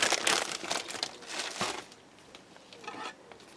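Paper bags handled up close: dense crinkling and rustling that comes in busy bursts, then settles to quieter, sparser crackles.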